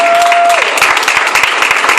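A church congregation at a Sunday service claps loudly to acclaim the Lord, dense sustained applause filling the room after a held tone fades out.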